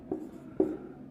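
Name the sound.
writing on the board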